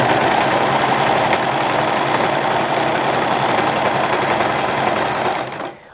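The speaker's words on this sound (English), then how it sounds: "continue serging while very gently pulling the scrunchie away from the serger" Serger stitching the overlapped seam of a fabric scrunchie, a loud, steady, close whirring drone that holds at an even speed and then winds down at the end.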